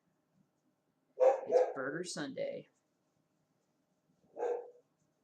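Bailey, a pet dog indoors, gives a short burst of odd, strained barks followed by one brief bark a couple of seconds later, close and fairly clear, with a person speaking briefly during the clip.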